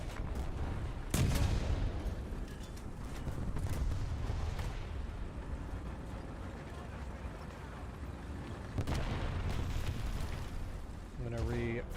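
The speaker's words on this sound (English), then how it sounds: "I'm taking rounds like crazy." Incoming shells strike a warship in the World of Warships game. Two sharp, booming impacts stand out against a constant low rumble of battle, and a faint voice is heard in places.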